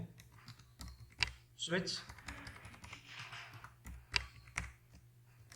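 Quick clicky keystrokes on a computer keyboard, in uneven bursts and single taps, while Java code is written; close and crisp, with someone speaking between the keystrokes.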